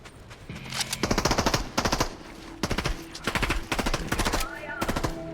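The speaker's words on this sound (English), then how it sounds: "the NPC is shooting in that direction means that there's someone there to shoot at" Bursts of NPC machine gun fire in a video game, several rapid rattling volleys of varying length at mid distance, separated by short pauses, with game ambience between them.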